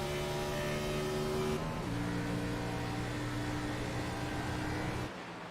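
Race cars in a racing video game accelerate, a loud steady engine drone holding strong tones that step up in pitch as gears change, then a slight drop near the end.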